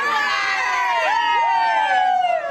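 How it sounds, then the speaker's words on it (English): Twilight fans screaming at a Twilight Convention in Los Angeles, a dense, loud crowd of high-pitched shrieks and cheers with wavering, siren-like voices rising and falling throughout. "The thousands of screaming Twihards gathered at the Twilight Convention in Los"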